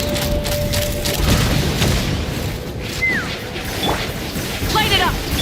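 Crashing blasts and booming impacts in a Genshin Impact fight, loud and near with repeated thuds and smashes throughout, with voices talking over the action.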